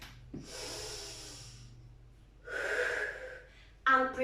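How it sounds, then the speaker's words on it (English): Slow deep breaths in and out during a workout cool-down, a long soft inhale followed by a stronger exhale and a sharp final breath, close and alone. "Take deep breath in and out."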